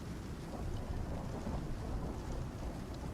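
A thunderstorm with rain in the survival game Icarus: a dense, continuous roar of heavy rainfall with low rumbling thunder underneath, steady and enveloping throughout, with no voices.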